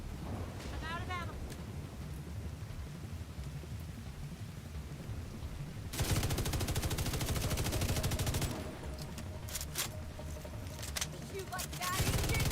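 Rapid bursts of gunfire from a video game in a live build-testing session, a dense crackling volley breaking out partway through and returning in sharp clusters near the end, loud over a quieter stretch.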